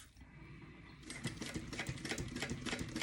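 A sewing machine stitches a tote bag on a long 4.5 stitch length, quiet at first and then starting into a fast, steady, close mechanical clatter.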